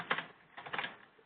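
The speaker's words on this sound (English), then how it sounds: "I'm typing in my response" Quick bursts of keystrokes on a computer keyboard as someone types a reply during a conference call, a few soft clustered clicks, close and faint, with no talking.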